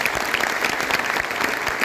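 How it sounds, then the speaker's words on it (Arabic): An audience at a DXN training session in Tangier claps loudly and steadily, a dense burst of applause with no voices over it. "تصفيقة"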